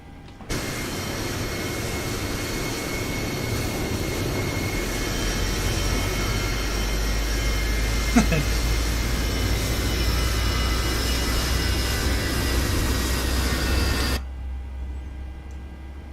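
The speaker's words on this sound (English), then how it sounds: "We have a good engine start." A Boeing 737-700 cargo jet engine spinning up in Microsoft Flight Simulator 2020: a steady, loud roaring whine with rising tonal hum, sustained for about fourteen seconds before cutting sharply to a quieter rumble, alone without talk.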